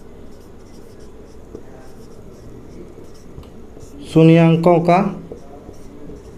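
Pen or chalk writing out a Class 10 maths polynomial problem, heard as a faint, steady scratching beneath a quiet room, with a short burst of speech partway through.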